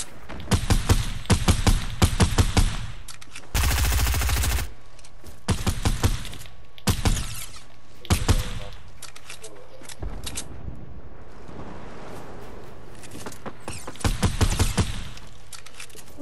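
Gunfire in the Fortnite video game: repeated bursts of rapid shots come in clustered strings, with one dense sustained volley and softer gaps between, heard alongside talk.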